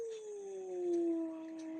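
A person imitates a wolf howl with one long sustained wavering tone that slowly sinks in pitch, steady and fairly loud, with faint background noise behind it.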